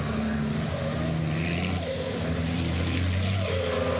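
A racing truck braking into the chicane at Zolder circuit during qualifying, with a loud, steady roar of the heavy diesel engine and shifting tones as it slows and turns, close and continuous.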